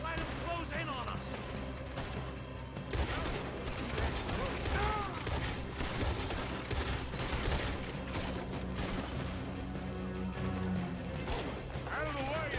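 Dense, sustained gunfire from a Red Dead Redemption 2 shootout, rapid overlapping shots and fusillades throughout, loud and close, with voices shouting over the battle and a musical score underneath.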